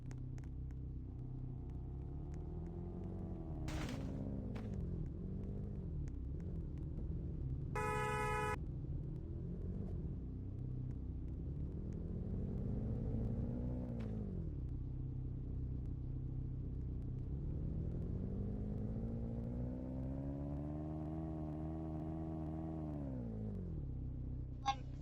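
A black car in a game drives steadily, its low engine rumble droning continuously and rising and falling in pitch with a few short electronic beeps and blips over the top, no voices heard.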